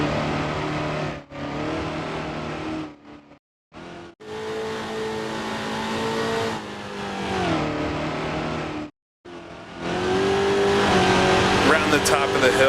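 A race car engine in Grand Prix Legends revs and holds high through the gears, cutting out briefly during shifts before climbing again, loud and continuous with a faint hint of tire noise.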